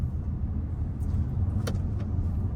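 Inside a car as it pulls away, a low, steady engine and road rumble fills the cabin, with a faint click or rattle partway through.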